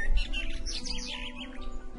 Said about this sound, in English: the giant woke up to the sound of a chirping bird